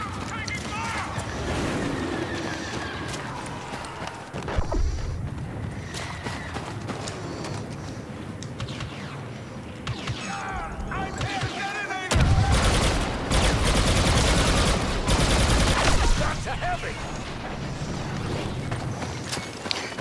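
In the video game Star Wars Battlefront 2, a grenade blasts amid bursts of gunfire, with a loud broadband explosion midway among rattling shots while a player talks throughout.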